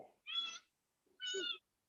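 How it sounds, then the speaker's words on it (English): A house cat meows twice, two clear, fairly close calls separated by a short pause, with no talking over them. "Oh, I think your cat wants to chime in."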